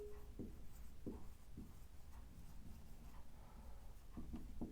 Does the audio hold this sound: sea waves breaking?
no